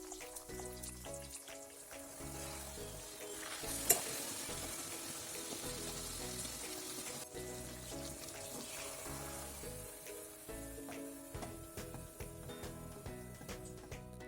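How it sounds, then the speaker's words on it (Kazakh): Shelpek, a Kazakh unleavened flatbread, frying in hot oil: a steady, dense sizzle and crackle runs throughout, with a few small clinks and one sharp tap partway through. "Қызып тұрған майымызға шелпектерімізді пісіріп, екі жағынан қызартып аламыз."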